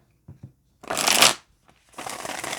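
Tarot cards being shuffled close up, two crisp riffling bursts separated by a short pause, with a few faint taps before them and no talk.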